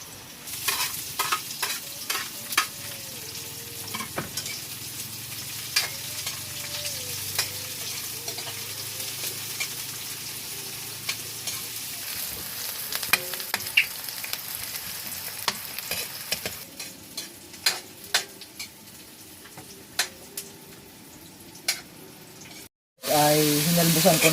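Banana and bamboo shoots sautéing in a pan, a steady sizzle with frequent scraping stirs and clinks continuing for a long stretch, loud and close, with no talk.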